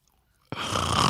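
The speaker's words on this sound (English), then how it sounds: "Rachel, are you snoring during our show?" A person snores close by: after a brief silence, one loud, rough, rasping snore starts abruptly and holds steady to the end.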